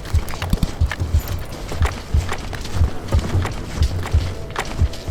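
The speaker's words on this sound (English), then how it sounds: "the footsteps are too loud" Footsteps of marching units in the castle-fight strategy game Realms of Madness, a steady run of loud, close clip-clop thuds repeating at a quick walking rhythm over a busy battle background.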